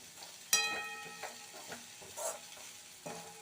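Okra frying in a pan for a lentil usili, stirred with a spatula that scrapes and clinks now and then over a soft, steady sizzle, close and fairly quiet.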